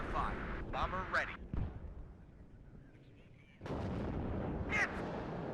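Artillery fire in the Cold War strategy game WARNO booms in a few heavy blasts, first in a quick cluster, then again after a short lull, with radio voice callouts over the top.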